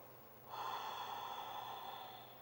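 A single audible breath during a gentle seated yoga stretch, a soft airy inhale that swells suddenly and holds, close and quiet, with no talking.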